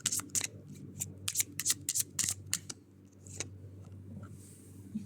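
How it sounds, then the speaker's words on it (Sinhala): Tarot cards are shuffled by hand close up, quiet crisp bursts of riffling and flicking in quick clusters, then a softer slide as cards are drawn and a near-silent pause follows. "අපි තව කාඩ් කිහිපයක් ගමු."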